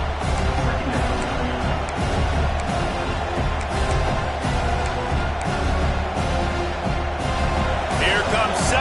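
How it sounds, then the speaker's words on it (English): Loud, continuous roar of a college football stadium crowd at Utah vs Boise State, swelling and cheering before a second-down play, with a commentator talking over it throughout. "this crowd is turning it up a notch"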